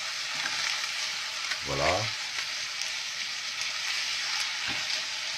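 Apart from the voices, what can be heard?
pasta frying and being turned in butter in a pan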